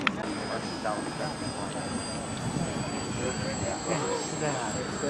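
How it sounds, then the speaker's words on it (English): Battery-powered model airplanes fly at a World War 1 reenactment at Midway Village, with a steady whining motor drone overhead. Crowd noise and chatter sit underneath. "These airplanes fly about 6 to 8 minutes on a battery charge."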